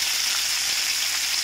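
Onions hit a hot pan and sizzle loudly and steadily, a close, continuous crackling hiss with no talking.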